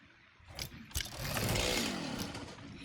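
A chainsaw runs in the factory-building game Satisfactory, starting with a few short bursts and then settling into a loud, steady, rasping drone that holds to the end.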